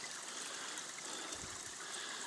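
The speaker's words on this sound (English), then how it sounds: "This is the little weir or dam where we collect the water." Water pours steadily over a small weir at a stream-fed intake for a fresh water system, a constant soft rushing and trickling heard from close by with no voices.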